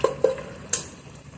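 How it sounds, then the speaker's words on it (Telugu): A spoon stirs boiled mutton with tomatoes in a pot, giving a few close, brief scrapes and clinks early on, then a soft bubbling murmur, with no one talking. "ఇలా మటన్ వేసుకొని ఇది బాగా కలుపుకోవాలి"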